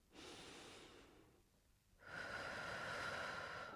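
Deep breathing during a chair-based pilates exercise, a long steady inhale followed by a brief pause and then a stronger, slightly louder exhale, close and quiet with no talking.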